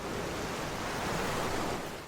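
Steady rushing wash of water surrounds a swimmer in the space exploration game Outer Wilds, a continuous even surf-like noise with no breaks and no talking.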